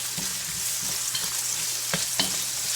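Onions sizzle and fry steadily in a hot pan for tofu cooking, with a spoon stirring and scraping in several soft bursts, close up and with no talking.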